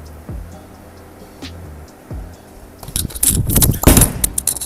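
A bowling ball with a symmetrical core rolls down the lane with a low rumble, then smashes into the pins with a loud, clattering crash near the end.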